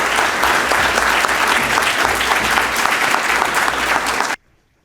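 Loud, sustained audience applause fills the room as the General Secretary is welcomed to the podium at a leadership forum, a steady wash of clapping that stops abruptly near the end.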